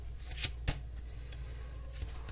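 Tarot cards shuffled by hand, a few quick papery riffles and soft snaps over a quiet room, close and light.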